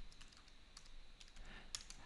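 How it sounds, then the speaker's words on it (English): Keystrokes on a computer keyboard while a place name is entered into a search field, a faint scattered run of light clicks against a quiet background with no talking. "by typing Randwick in there"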